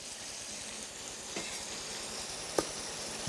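Shrimp sizzle in a hot pan while cooking for a spicy stir-fried green bean and shrimp dish, a steady close broadband fry with a couple of sharp clinks or pops, no talking.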